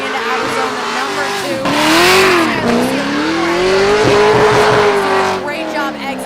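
A drift car entering the outer zone at Raceway Park during round 3 of The Gambler drift event: loud, close engine revving and wavering throttle with screeching tires, continuous throughout, under a commentator talking.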